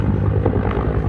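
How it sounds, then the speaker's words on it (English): Search helicopter flying low over the rocky Symi coastline, a steady rotor thrum and engine drone holding loud and constant throughout with no talking. "helicopters scan the pristine coastline,"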